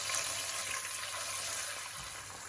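Ginger and garlic paste frying over high heat in a pan, giving a steady, close hissing sizzle with faint stirring, easing slightly toward the end.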